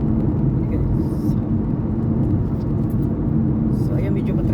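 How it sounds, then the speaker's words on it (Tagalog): Road traffic near a bridge with a U-turn slot, heard as a continuous low rumble of passing cars and engines, fairly loud and steady throughout, without distinct individual events. "So, ayan, medyo ma-traffic na dito."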